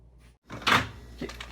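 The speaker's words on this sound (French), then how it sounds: "Donc là, on va fermer la porte." A door is pushed shut with a short, muffled thud and rattle after a brief hush, followed by a faint softer knock, close by in a quiet indoor room.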